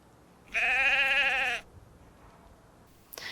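A single sheep gives one loud, clear, wavering bleat of about a second, close to the microphone, followed by quiet with a faint soft noise at the end.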